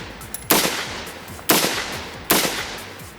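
Three sharp, loud gunshots ring out about a second apart, fired by a shooter lying prone and aiming with a red dot sight, each crack trailing into a short echo with no talking.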